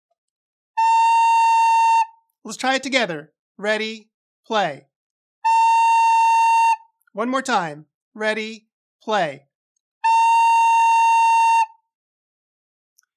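Recorder sounding a sustained A note three times, each held for over a second, separated by short spoken cues between the notes.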